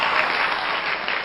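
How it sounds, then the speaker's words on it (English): A studio-style crowd claps continuously in a thick, even burst of applause that holds at a steady level throughout, with no speech on top. "And the crowd goes wild."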